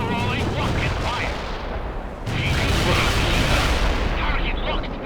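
Heavy artillery and gunfire from the real-time strategy game World in Conflict, with sustained loud booming and crackling volleys that dip briefly and then surge again, while a voice speaks over the battle noise.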